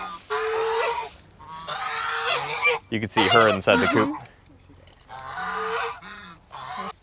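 Geese honk loudly near a backyard coop where a goose is nesting on eggs, in repeated harsh bursts mixed with people talking close by.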